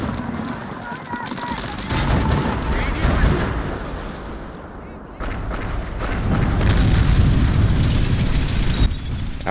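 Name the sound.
tank and anti-tank gun fire in video game Men of War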